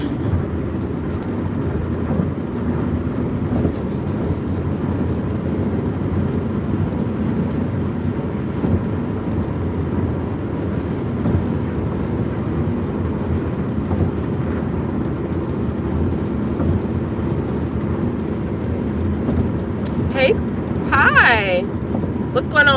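Steady road noise and engine drone heard from inside a moving car, constant and fairly loud, with a person talking over it throughout and brief sharp sounds near the end.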